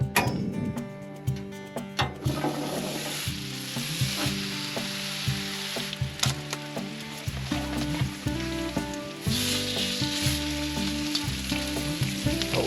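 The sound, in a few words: lamb rib roast with butter sizzling on the grill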